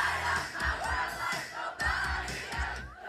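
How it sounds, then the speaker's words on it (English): Students at a karaoke night, a crowd of voices belting out a song together in a loud, continuous group sound with rhythmic bursts and cheering energy. "Students bonded and belted out songs for hours."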